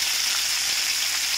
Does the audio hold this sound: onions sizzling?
yes